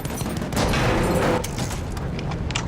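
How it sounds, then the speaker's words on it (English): A bomb dropped from a Zeppelin explodes in a World War I video game, a loud, sustained rumbling blast that swells and then slowly fades into scattered distant gunfire. "And now, I am going to drop a bomb on them."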